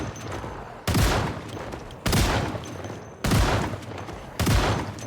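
Shotgun blasts in the zombie survival game Project Zomboid: four loud, booming shots spaced about a second apart, each with a long ringing decay, and no talking.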